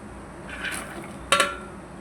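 Cut coconut pieces dropped into thick jaggery syrup in a pot, giving a soft clatter followed by a sharper clinking scrape against the metal, close and fairly quiet.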